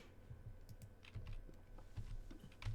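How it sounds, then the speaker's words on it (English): A computer mouse clicks quietly and repeatedly while someone plays an online card game, the soft, close clicks coming in quick, uneven clusters. "There's so much clicking."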